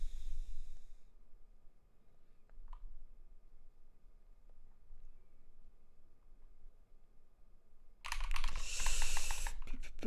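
Computer keyboard typing while code is written, soft scattered key clicks at close range through most of the stretch, ending in a louder dense burst of rapid keystrokes.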